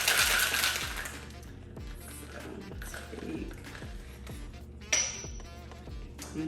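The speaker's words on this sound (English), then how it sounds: "Then I'm gonna go ahead and give it a shake, a really good shake." A cocktail shaker holding cranberry juice and fresh lime juice is shaken hard, giving a steady run of rattling, clinking ice knocks at close range with no talk.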